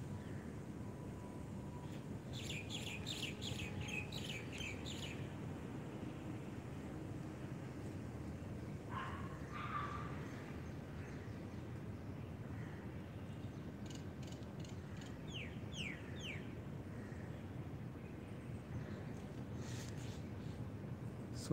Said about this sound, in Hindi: पक्षियों की मधुर ध्वनि सुनने का प्रयास करें